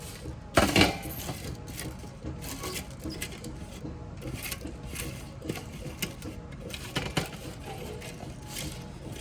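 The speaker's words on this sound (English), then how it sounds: "the greens of the Leeks are finished, and I'm putting them over here in my dish pan" Dried leek greens are tipped from dehydrator trays into a dish pan, making dry rustling and crackling with a sharp clatter near the start, then repeated lighter crinkly pours and taps close by.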